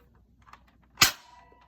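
A Nerf toy gun fires a single sharp pop with a quick hollow ring afterward, close and fairly quiet, preceded by faint clicks.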